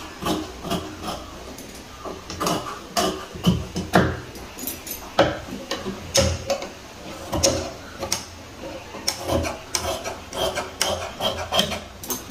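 Fabric being cut with scissors for a princess-cut blouse front, heard as a steady run of close, sharp snipping strokes and crisp cloth handling spread across the whole stretch, with no talk.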